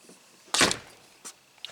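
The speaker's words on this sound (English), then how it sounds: "And now when we close the door," A wooden cabin door swings shut into a tight frame, landing as a single solid thunk followed by a couple of small knocks as it settles, close by in a quiet room.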